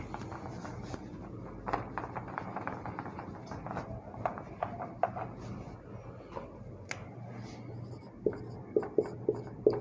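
Someone writes a line on a classroom board during a geography lecture, making a steady run of close-up scratchy taps and strokes. Sharper knocks mark the final marks, and no talk is heard.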